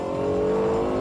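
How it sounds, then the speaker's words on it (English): A Lexus LFA V10 engine revving, heard through its acoustic intake pipes into the cockpit: a loud, steady, harmonically rich high-pitched wail held close and without pause. "they settled on the V10 and then matched that with the extraordinary acoustic pipes that channel the noise into the cockpit"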